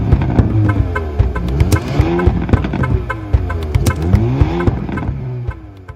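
Hyundai Kona N exhaust while driving, a loud, continuous engine note rising and falling through gear changes, with sharp pops and crackles punctuating the revs close by.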